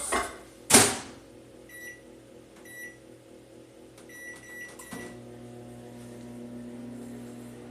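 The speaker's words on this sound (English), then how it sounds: "Put that in the microwave for a minute to defrost" A microwave oven is set running to defrost food: a sharp door thump, a few electronic beeps, then a steady low hum from the running oven.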